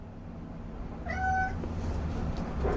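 A house cat gives a single clear, drawn-out meow partway through, moderately close, over a steady low room hum.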